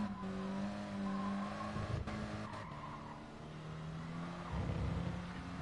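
Renault Sport race car in GT Sport racing, a steady engine drone with tyre noise and a couple of brief scrubbing bursts as it takes corners, fairly quiet and continuous throughout.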